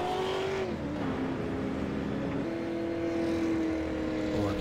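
Stock race car in a racing video game at Martinsville, engine revving hard in steady sustained tones with a brief dip and rise, no voices.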